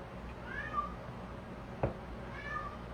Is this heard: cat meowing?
yes